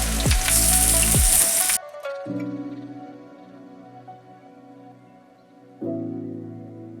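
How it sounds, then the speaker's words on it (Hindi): Two large onions frying in a pan for haleem, a loud, dense sizzle for under two seconds that cuts off abruptly into a steady tonal hum. "साथ ही प्याज को फ्राई कर लेते हैं।"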